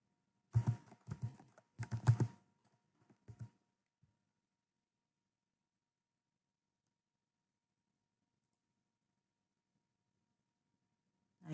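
Computer keyboard typing code into a js file, two short bursts of quick key clicks close and clear, a few isolated taps, then long silence.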